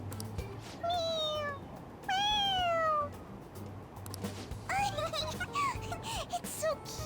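Cat meowing in the Persona 5 Royal video game: two drawn-out, clear meows followed by a cluster of shorter, chirpy mews, with a low steady hum underneath.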